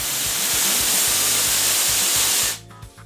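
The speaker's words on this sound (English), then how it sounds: "I felt like it blasted air." A loud, steady blast of cold air hisses out for a couple of seconds over a rhythmic low mechanical pulsing, then cuts off abruptly into near silence.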